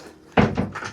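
A nearby door shuts with a single firm thunk, followed by a brief rattle as it settles in the frame.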